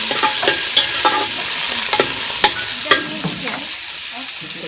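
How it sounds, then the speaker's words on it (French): Onions fry in hot oil for a Senegalese-style sardine roast, giving a loud, continuous sizzle broken by repeated stirring scrapes and clinks, with no voices. "Oui, là, il met les oignons"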